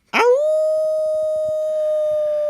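A single loud, sustained vocal howl imitating a werewolf rises sharply at the start, then holds one steady pitched tone close to the mic with clear overtones for over two seconds.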